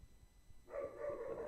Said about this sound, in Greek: Τα σκυλάκια μου θα συνεχίζουν να γαυγίζουν πάντοτε